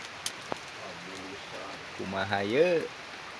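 Rain falls outdoors beside a rice field as a steady soft hiss, with a couple of sharp drips early on, while someone speaks briefly over it.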